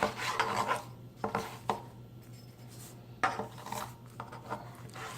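A chef knife cuts the top off a roasted Hatch pepper, making soft rasping strokes and a few sharp taps on the cutting board. Each sound is close and fairly quiet, and no one speaks.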